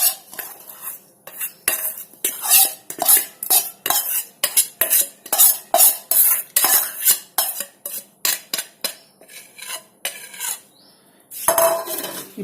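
A spoon stirring cooled oil into a grape pickle in a pot, a long run of rhythmic scraping and clinking strokes, close and fairly loud, with a short pause near the end.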